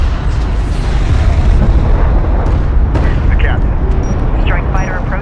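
A strike fighter blowing up in Homeworld: Deserts of Kharak amid a battle, heavy booming explosions and rumbling fire, loud and continuous, with brief radio voices.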